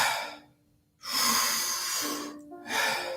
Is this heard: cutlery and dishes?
no